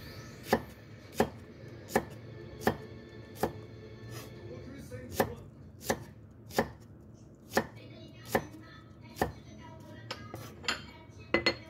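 A knife thinly slices shallots or onion on a cutting board, sharp regular knocks roughly once a second, close and clear over a quiet room.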